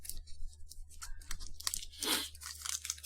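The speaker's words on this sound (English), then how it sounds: "you have to break the foil to get to it" Sealed foil wrapper on a gold-bar-shaped Japanese candy bar being broken and torn open, a close, crinkly crunch with a louder tearing burst partway through, no talk.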